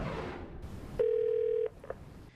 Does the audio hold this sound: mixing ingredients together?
no